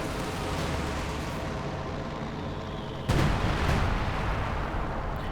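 Bombing run explosions in Company of Heroes 2, with one sudden heavy blast rising out of a continuous loud rumble of battle noise and then rolling away.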